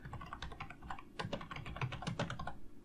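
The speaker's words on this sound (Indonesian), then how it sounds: "kalau kita mengetikkan sesuatu misalnya" Keys clatter on a computer keyboard as someone types a search query, quick irregular clicks in short bursts with small pauses between them. The sound is close and clear, and no one talks.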